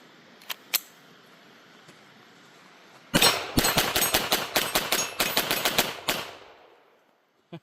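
A Taurus TX22 .22 pistol firing cheaper non-CCI ammunition: two sharp clicks, then a fast string of about a dozen close, loud, evenly spaced shots followed by silence and a final click.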